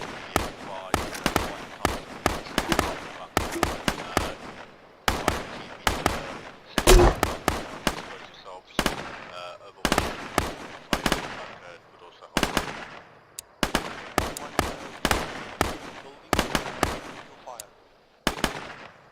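Gunfire in the Arma 3 game during a fire-and-manoeuvre training session: sharp, loud shots and short automatic bursts crack in irregular clusters separated by brief quiet gaps, close and distinct throughout.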